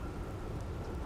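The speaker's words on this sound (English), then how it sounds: "That storm's getting a little close." Approaching storm in Outer Wilds, a dense continuous wash of rain and low thunder rumble, loud and close, with no pause over the short stretch.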